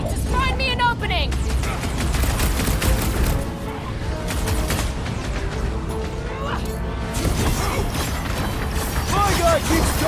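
Gunfire in the Guardians of the Galaxy video game: rapid, crackling blaster shots and mechanical clatter throughout a chaotic battle, with several characters shouting and talking over the din.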